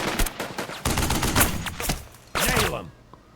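Gunfire in the WWII North Africa strategy game Burden of Command: several loud bursts and rattling volleys crackle in quick succession, with one final sharp blast before the sound fades out.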